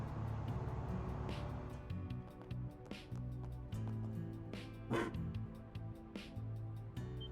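A dog barks in short, repeated bursts in the video game Trails Through Daybreak, a few yips spaced out over a low, steady game soundtrack.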